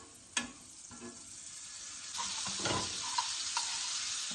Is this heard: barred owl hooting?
no